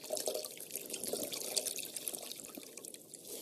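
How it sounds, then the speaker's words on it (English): A washcloth being wetted under a running tap at a sink, with continuous close splashing water and dripping. "So I'm going to wet my rag."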